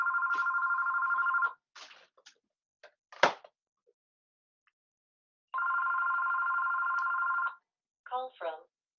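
A telephone rings in two long bursts with a gap between, loud and close, with a few knocks and clunks in the pause and a short synthetic voice-like chirp at the end.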